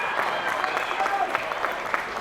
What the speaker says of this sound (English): that will give the fans a chance to cheer them on